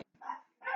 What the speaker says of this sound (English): Dog's going nuts.